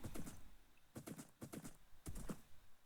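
Horse hooves clip-clopping in Minecraft, several short bursts of quick hoof steps in an uneven rhythm, fairly close and moderately quiet, with no talk over them.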